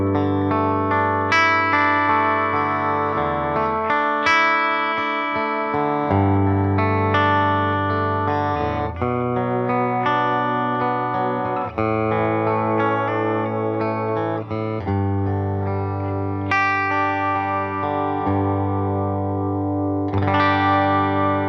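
Gibson SG Standard electric guitar on its bridge pickup, played with distortion and effects: sustained, ringing chords and melodic lines with a bright, glassy edge, loud and continuous throughout with no talking.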